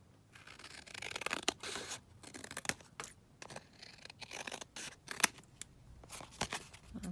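Scissors snip through paper at a desk in a string of short, close cuts and scrapes, with quiet pauses between the bursts.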